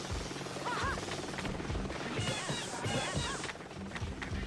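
Video game helicopters in Jet Set Radio whir over a dense, busy game soundtrack with scattered chirpy effects, the rotor drone steady and mid-loud throughout.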